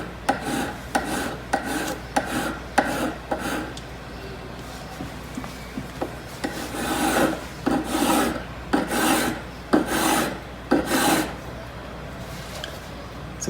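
Hand file strokes work an inner angle, a run of short quick rasps followed by longer, louder scraping passes, each stroke distinct and close, with faint talk in places.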